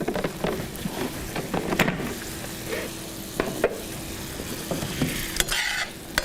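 Shrimp and crawfish sauté in hot fat in a pan, giving a steady close sizzle broken by scraping and stirring clatters and a few sharper utensil knocks.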